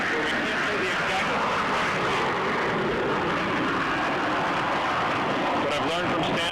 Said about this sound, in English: we do have the warplanes passing over us right now, taking off on the runway, heading in the direction right now of Iraq